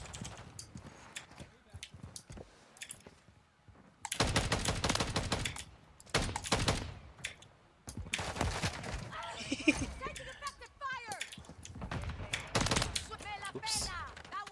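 Bursts of rapid gunfire in Call of Duty Modern Warfare 3 come in loud clusters with pauses between them, mixed with game clatter and a person talking.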